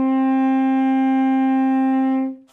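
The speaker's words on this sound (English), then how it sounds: "So this is your note D. It sounds like this." A tenor saxophone holds a single sustained D, a steady, clear tone played up close and alone, fading out at the very end.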